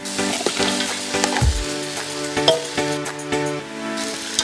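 Medium-sized crab goes into a pan for jackfruit crab biryani, bringing a steady sizzle with clattering knocks and scrapes from the shells and a spoon, close and without voices.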